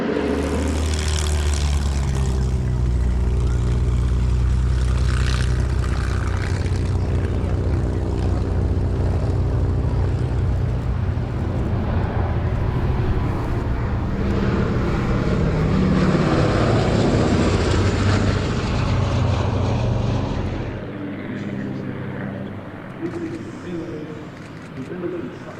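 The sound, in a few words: Sally B, a G-model B-17 bomber aircraft flying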